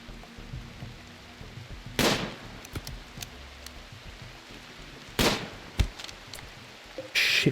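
Colonists fire on a raider in RimWorld: a few sharp, isolated shots crack out at intervals against a quiet background, with a final burst near the end.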